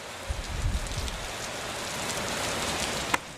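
Heavy rain pouring down in a dense, steady hiss, with a few low rumbles near the start and a sharp click near the end.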